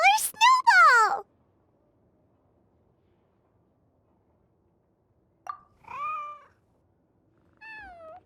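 A cartoonish cat meows in the Genshin Impact video game, with a sharp cry at the start, then two shorter, softer meows after a long silent pause.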